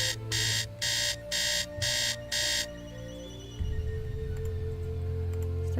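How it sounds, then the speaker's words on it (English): Alarm clock in the video game Nancy Drew: The Secret of the Scarlet Hand, ringing as six quick, loud electronic beep bursts in an even rhythm, then stopping and leaving a low ambient hum. "Let's set our alarm for 8 a.m."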